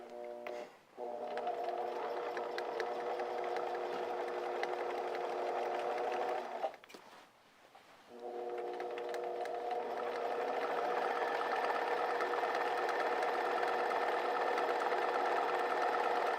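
A sewing machine stitches a pair of pants as the foot pedal is pressed, giving a steady droning motor hum. It runs briefly, stops for about a second, runs again, pauses near the middle, then runs continuously to the end.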